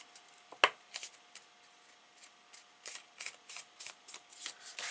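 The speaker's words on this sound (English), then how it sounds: "I'm just going to fold it" A piece of paper card being folded and creased by hand, with a sharp crisp crack followed by a series of soft rustles and rubbing swipes, close and quiet.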